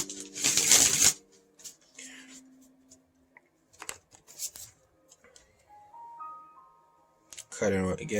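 A deck of tarot cards is shuffled and cut close by, with a crisp riffling burst at the start and quieter taps and slides after it. A voice speaks softly near the end.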